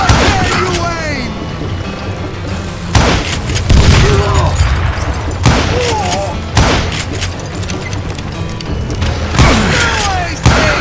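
Dynamite blasts in the Western shooter game Call of Juarez: Gunslinger: a string of loud, heavy booms at irregular intervals, mixed with gunfire and shouted voices.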